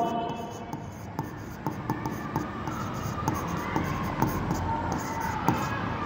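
Repeated light taps and scratchy strokes from a teacher writing on a classroom board, steady and fairly close, with faint room noise and little talking.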